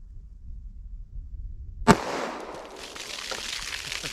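A single sharp gunshot from a .45 ACP pistol loaded with Buffalo Bore Barnes TAC-XP rounds, fired into a ballistic box, cracking abruptly after a quiet stretch and trailing into a few seconds of reverberant ringing.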